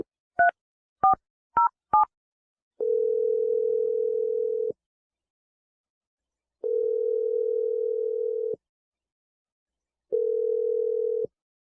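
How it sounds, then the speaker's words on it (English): A telephone number is dialed as a quick run of four short DTMF beeps, followed by three long, steady ringback tones separated by silence, all clean and close with no talking. "So I'm going to dial Jesse's number"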